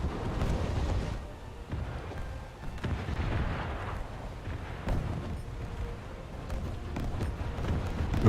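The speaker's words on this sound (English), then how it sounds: "that's artillery coming down on me" Artillery shells crash down in a naval combat video game, a dense, continuous rumble of overlapping distant booms and blasts rolling on without a break.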